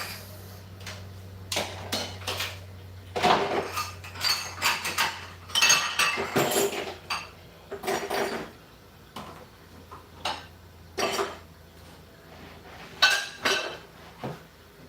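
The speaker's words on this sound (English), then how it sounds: "I gotta wash my dishes, guys" Dishes being washed by hand, with pots, plates and cutlery clinking and clattering close by in irregular bursts of sharp metallic and ceramic knocks, separated by short pauses.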